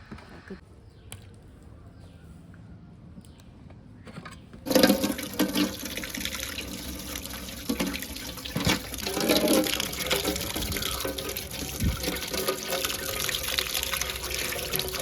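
Tap water running steadily while a large fish is washed and cleaned outdoors, starting after quiet and continuing as a close, constant splashing stream, with voices talking over it.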